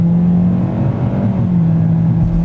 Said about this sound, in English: put my foot on the gas.